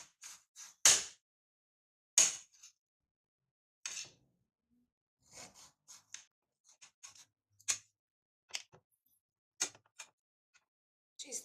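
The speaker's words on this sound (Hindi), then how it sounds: "कुछ इस तरह से काटना है और स्लाइसेस में ऐसा भी काट सकते हैं।" A knife slices eggplant with scattered crisp clicks and taps on a board, irregular and close, some sharper knocks among fainter ones, with no voices.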